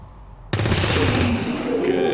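Gunfire in the video game XCOM 2 breaks out abruptly after a moment of quiet, a loud close burst that rattles on densely to the end.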